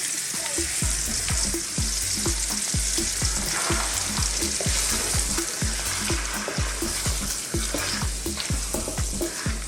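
Lamb pieces fry in sunflower oil in a hot wok. A close, steady sizzle runs throughout, and repeated scraping strokes from stirring land in a fairly regular rhythm.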